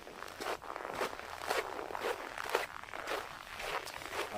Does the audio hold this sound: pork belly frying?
no